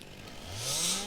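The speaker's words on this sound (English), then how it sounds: "Chainsaw!" In the farming video game Farming Simulator 2019, a chainsaw drones steadily with a rising engine whine that swells louder toward the end, heard alone without talk.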